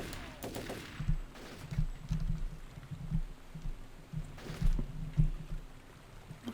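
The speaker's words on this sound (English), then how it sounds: "Not sure where I'm getting shot from." Repeated gunfire in Turok 3: Remastered, a steady run of muffled shots and bursts spread across the clip, with a louder, sharper burst of fire partway through.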